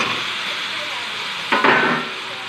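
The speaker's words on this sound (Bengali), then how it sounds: "মশলা থেকে তেল ছেড়ে দিয়েছে, এবার সবজি আনাজগুলো দিয়ে দেবো" Vegetables drop into hot spiced oil, setting off a sudden burst of sizzling about midway through over a steady background hiss, then settling back down.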